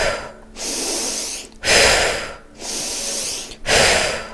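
Rapid, forceful breaths during a breathing exercise, alternating sharp inhales and exhales in a steady rhythm of about four long, loud breaths, close to the microphone.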